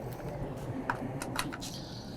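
Stihl HSA 26 battery hand trimmer getting its grass cutter blade clicked into place: a couple of sharp, close plastic snaps over low steady room noise.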